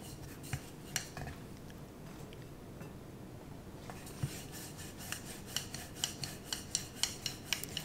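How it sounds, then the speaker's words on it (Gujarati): A rolling pin works thick bhakri flatbread dough dusted with dry flour on a board, making a continuous rasping rub with rhythmic light knocks of the pin, close and without speech. "થોડુંક એના ઉપર કોરો લોટ નાખીને હવે વણીશું."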